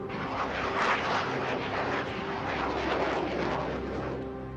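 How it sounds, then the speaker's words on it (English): A pair of missile-armed F-16 fighter jets fly past with a broad, roaring rush of engine noise that holds steady and fades slightly at the end, heard on its own with no voices. "Lieutenant Colonel Wilfred de Brouwer, ordered ground command to scramble a pair of F-16 fighter jets armed with missiles."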